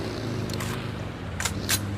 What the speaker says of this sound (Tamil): ஏய் கார் வருது பாரு. பிரீப் கார் வருது பாரு பின்னாடி.